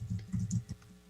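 Quick keystrokes on a computer keyboard, a short run of soft clicks in an uneven rhythm, fairly quiet and close, with no voice over them.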